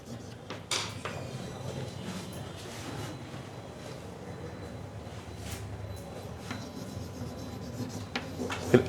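Someone writes a maths question on a board, producing steady soft scratching and rubbing strokes at moderate distance, with a few sharper taps and a slight knock near the end, no talking.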